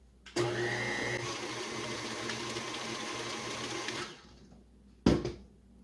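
An electric mixer whirs steadily through cake pop batter for about four seconds, then stops, followed by a brief, loud clatter.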